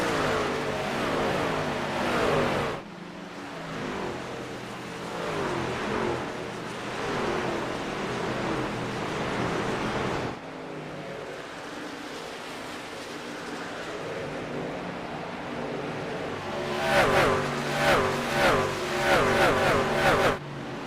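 Race cars battle on a track during a round-of-16 playoff race, their engines roaring and surging past in waves, loud and continuous, with a burst of rapid revving near the end.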